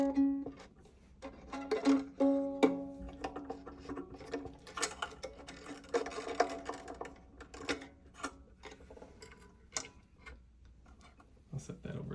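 An acoustic guitar's A string is loosened by turning its tuning peg, giving short ticking clicks and a few plucked tones that fall in pitch, fairly quiet and close.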